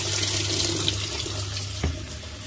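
Steady rush of water flowing through a washing machine's water inlet valve during a test after repair, a continuous close hiss with a low hum beneath and a brief knock near the end.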